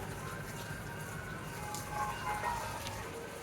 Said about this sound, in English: the ice cream truck that went by